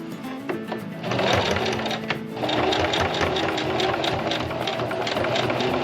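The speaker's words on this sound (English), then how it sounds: "This thing was advertised about its high-speed motor, and it does have one, but a rookie sewer doesn't need a high-speed motor." High-speed sewing machine motor whirring and stitching, a rapid needle chatter that starts, briefly eases, then runs loud and steady close by with no talk.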